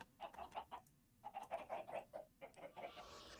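Chickens clucking in Minecraft, a quick series of short clucks in two bursts with a brief pause between, fairly faint, with a soft rustling noise near the end.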